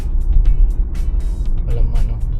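A car drives along an empty, wide road in the US during a food-delivery run, its engine and tyre noise a steady low rumble throughout, close and continuous, with faint hiss and a few brief higher sounds above it.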